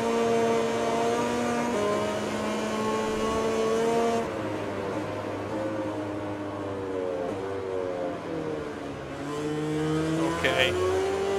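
Racing motorcycles in MotoGP 20 lap the Czech Republic circuit, engines whining high and rising through the gears, with a steady loud drone and a brief sharp burst near the end.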